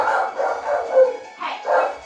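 Robotic dog enemies in the Mega Man X4 video game bark in a quick series of sharp, yelping barks, loud and close, with a brief whimpering tone mixed in.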